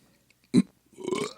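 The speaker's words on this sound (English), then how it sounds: "That's the burp that was supposed to be." A single short, loud burp comes from a person just after eating lion meat, followed by a brief voiced murmur.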